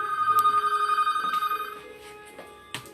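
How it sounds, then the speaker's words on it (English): A telephone rings in an art gallery office, a bright warbling electronic trill that repeats for about a second and a half, then cuts off, followed by faint handling noises. "Let me get that phone."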